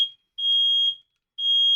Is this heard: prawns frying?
no